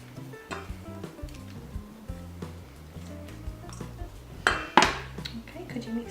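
Utensil clinks and scrapes against a bowl while diced ham is mixed, with scattered light clatter and one louder clatter near the end.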